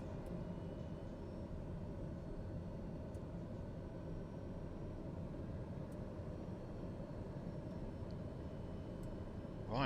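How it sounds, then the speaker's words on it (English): A TBM 850 turboprop taxis in Microsoft Flight Simulator, giving a steady, even engine drone and rumble that holds for the whole stretch without talk. "it's TBM 850, taxiing to runway 13 for VFR departure to the north"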